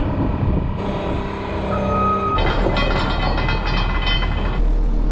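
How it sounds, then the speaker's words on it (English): An SV340 skid loader fitted with a pallet fork whines and drones as it drives over frozen, bumpy ground, the engine hum joined midway by a steady rattling clatter of the machine bouncing along. "Driving our SV340 skid loader with a pallet fork in the front"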